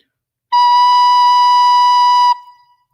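One sustained recorder note B, clear and near, starts after a brief silence, holds steadily for nearly two seconds, then cuts off with a short fading ring.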